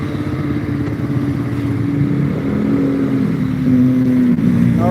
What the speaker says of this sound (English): she's flagging the bus down, but the bus is just passing her by because it's too full